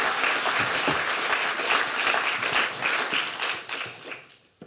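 An audience applauds to welcome speakers onto a stage at an art talk, dense steady clapping from a crowd that holds for several seconds then tapers off.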